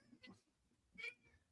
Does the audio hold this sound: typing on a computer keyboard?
no